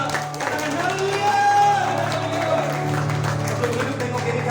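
A church congregation at a Saturday worship service cheers and applauds steadily throughout, a broad wash of clapping and voices with a faint droning tone underneath.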